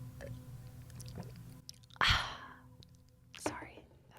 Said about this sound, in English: Can you gulp into the mic more?